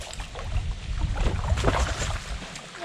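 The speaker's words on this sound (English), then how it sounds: "I can hear that wind coming up" Steady wind blowing across a lake at a fishing spot in Somerset, a continuous low rumbling gust with buffeting on the microphone and no talk.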